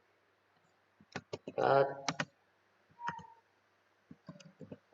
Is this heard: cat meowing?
no